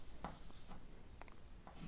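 A pen scratches out brief chemistry notes on paper, faint close scribbling in a few short strokes and taps against a low background hiss.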